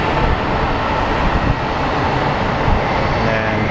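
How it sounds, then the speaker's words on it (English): A steady, loud roar of an Airbus A319 airliner's engines at an airport gate, a broad continuous rumble and hiss holding level throughout with no talk. "So we have an A319 that is just officially pulled in, and we're watching it right now."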